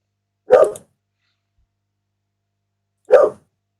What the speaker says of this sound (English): That's just a wolf and the coyote just having a go at each other.